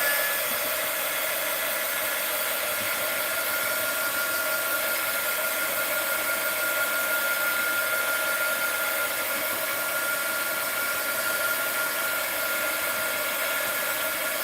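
A heat tool blows steadily while drying a craft project, with a continuous close whirring hiss and no breaks.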